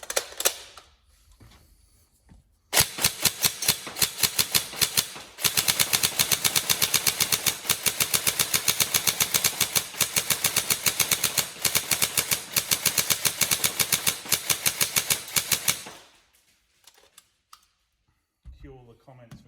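An upgraded TM 416 Delta NGRS airsoft electric gun fires long fast bursts with a rapid, even mechanical clatter, close and loud, plus a shorter burst at the start and quieter handling noises at the end.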